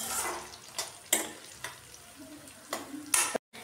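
Medium-sized chopped onion sizzles in a pan for a spicy crispy chilli idli, a steady frying hiss broken by a few clattering stirs and scrapes, with no voices.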